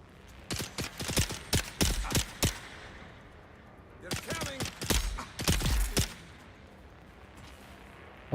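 Rifle gunfire in Dune Awakening, a game: two clusters of sharp, rapid shots, each a burst of five or six cracks, fairly quiet, with short gaps between the bursts.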